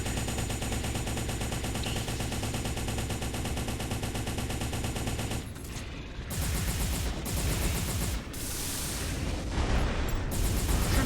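Gunfire and missile launches in the video game M.A.S.S Builder form a loud, steady stream of rapid shots, then break into choppier bursts and blasts after a brief dip partway through.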